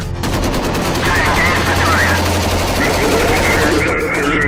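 Rapid bursts of gunfire crackle continuously through the whole stretch, loud and dense, with a steady low rumble and some muffled voices mixed underneath.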